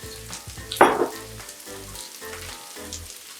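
Lobster pad thai with bean sprouts and garlic stems frying in a hot pan, a steady close sizzle with one loud burst of hiss early on, then stirring scrapes in uneven pulses.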